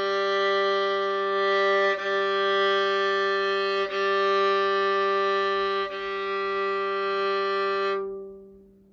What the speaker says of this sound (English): Here's the G string.